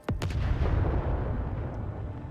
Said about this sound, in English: Another explosion interrupts the sergeant's verse.